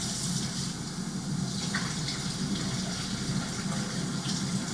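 Cold water running from a kitchen tap as it fills a measuring cup for cooking, a loud, steady, close gushing flow with no break from start to finish.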